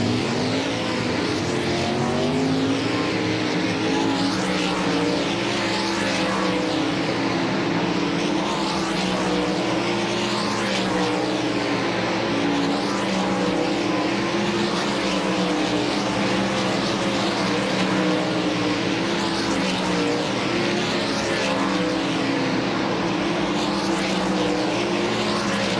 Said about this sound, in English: Sterling Kling racing around turn number 2, picking up speed on the back stretch